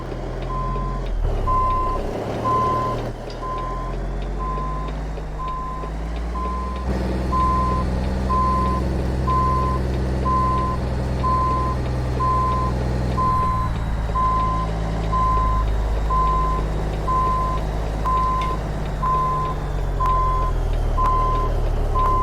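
A Marmon 110p cabover truck in American Truck Simulator backs up with its reversing alarm beeping at a steady even rhythm over a constant low diesel engine rumble, loud and close throughout.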